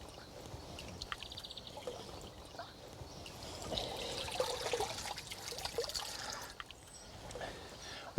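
Water trickles and sloshes softly and steadily as hands work through weeds in a garden pond with water lilies, the splashing swelling midway and fading again, no voices present.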